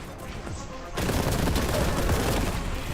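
A sudden grenade blast in a Warhammer video game erupts after a second of quieter din, leaving a loud, dense roar of gunfire and explosive rumble that stays sustained to the end.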